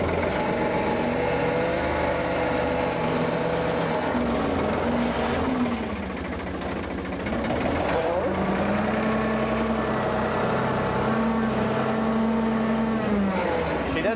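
The engine of a homemade loader running in reverse, a steady close mechanical drone with a whining tone that rises and falls, while a voice talks over it.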